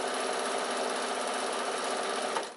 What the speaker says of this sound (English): Keep your needle down if you've got that function on your machine.